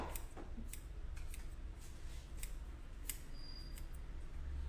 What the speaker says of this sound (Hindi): बिल्कुल बाल स्ट्रेट काट रही हूँ